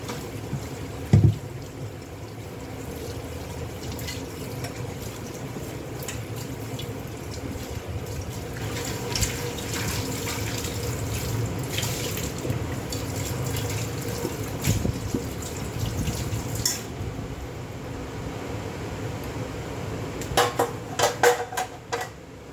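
Dishes being washed under a running tap: a soft steady stream of water with scattered clinks and knocks of plates and utensils, growing busier toward the end.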